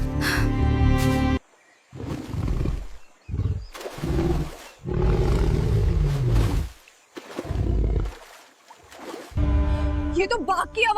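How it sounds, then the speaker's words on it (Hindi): A tiger roars in loud, drawn-out bursts, several heavy growling calls separated by brief pauses, with music and dramatic effects layered underneath. "ये तो बाघ की आवाज है।"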